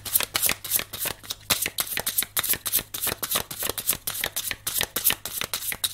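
Tarot cards riffle and flick in rapid, crisp bursts as they are shuffled and turned over, close up and continuous with a soft hum beneath.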